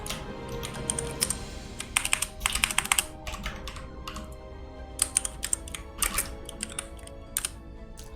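Rapid clattering keystrokes on a computer keyboard with a Korean layout come in uneven bursts and pauses, close and busy, with no talk over them.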